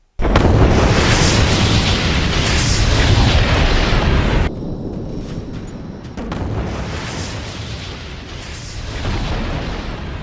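Drone strikes blast a weapons depot in the Russia-Ukraine war, a loud sustained explosive roar followed by a second, slightly quieter rumbling burst, heard alone without talk.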